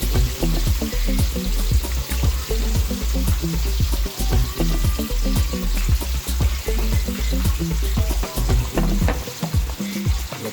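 Adobo, Cebu Bisaya style, sizzles and fries steadily in a pan for several seconds, loud and close, with a continuous crackle and frequent scraping stirs, no voices.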